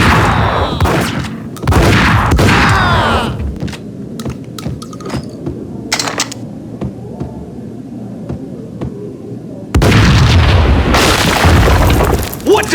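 Explosions rip through a Max Payne game scene as heavy booming blasts, a loud burst at the start, scattered thuds and rumbles in the middle, then a long roaring detonation near the end.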